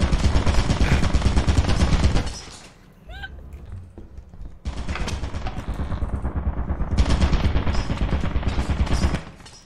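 An automated turret in the video game Lethal Company fires in rapid, close bursts of gunfire that stop for a moment and then resume just as fast, with players' voices shouting through the pause.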